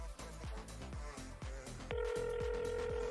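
A telephone starts ringing partway through, a steady electronic ring over rhythmic thumping game audio and commentary during a live Madden football tournament final.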